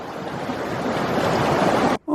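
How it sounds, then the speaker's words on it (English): Bear Creek in Colorado rushing high with snow melt, a loud, dense, continuous roar of water heard up close, cutting off abruptly near the end. "I'll get a little bit more of Bear Creek in here"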